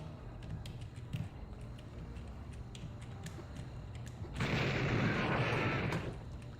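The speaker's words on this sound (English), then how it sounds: "Did someone just explode?" An explosion in the video game Blood, a loud, broad roaring blast rising suddenly after quieter scattered clicks and pops, sustained for about two seconds before fading.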